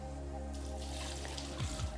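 Boiled potatoes being drained, water pouring steadily and splashing into a sink for a couple of seconds, loud and close with no talking.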